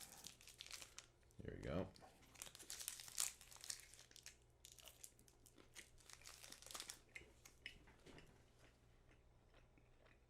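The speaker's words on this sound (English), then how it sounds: "Let me grip and rip" A Slim Jim meat stick wrapper is gripped and ripped open, giving close plastic crinkling and a sharp tear followed by more rustling handling. A person speaks briefly over it.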